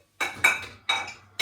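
Dishes being washed by hand in a home kitchen, with three bright bursts of clinking plates and cutlery over a low steady hum, close and fairly loud.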